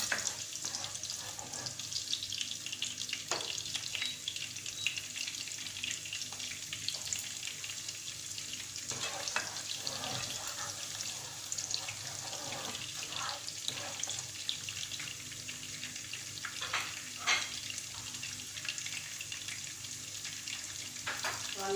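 Onion frying in oil hisses with a continuous, moderately faint sizzle, broken by occasional crackles and light stirring clicks.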